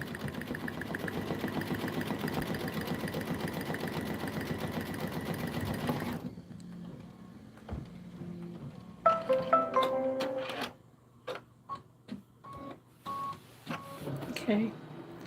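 An embroidery machine runs steadily for about six seconds, stitching a dense satin-stitch Lori Holt quilt block on an 8x12 hoop, then stops, leaving quieter clicks and handling noises as a person talks.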